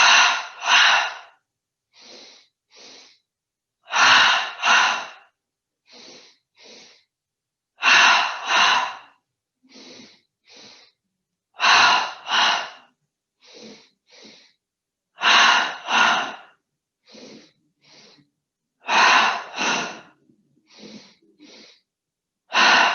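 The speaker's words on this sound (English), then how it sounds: "breathing in through the nose twice, out through the mouth twice, using the belly like a pump" Patterned breathing in a seated yoga session, with two quick sniffs in through the nose followed by two puffs out through the mouth, repeated in close, steady cycles.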